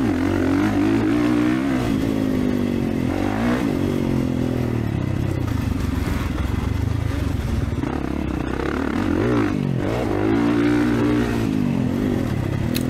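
A motocross dirt bike ridden around the Eugene MX track in perfect conditions: a loud, close engine that revs up and down repeatedly through shifts and corners, with clattering and scraping over the rough dirt, no voices.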